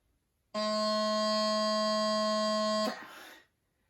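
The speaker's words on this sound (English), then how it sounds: "Now we're going to play your first note, the low G." A steady, reedy bagpipe chanter playing a low G note held for over two seconds, close and loud, then cutting off into a brief breathy tail.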